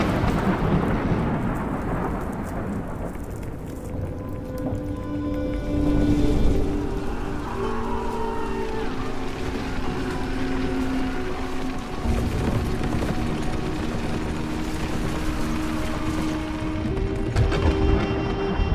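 A fierce thunderstorm at sea beats down on a ship, with steady heavy rain and rolling thunder swelling in broad surges, while faint tonal creaks or voices drift underneath throughout.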